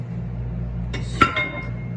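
A metal spoon clinks and scrapes against electric mixer beaters while clearing out pineapple upside-down cake batter, two or three short bright knocks over a steady low hum.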